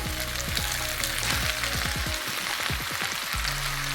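Broccoli hits a hot frying pan already holding chicken for a stir fry and crackles into a busy, close sizzle with rapid pops that carry on steadily.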